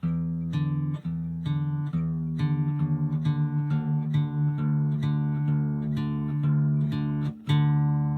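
Steady plucked guitar strings ring out repeatedly, with the low E string's pitch sliding downward as it is loosened to drop D; no voices, close and clear.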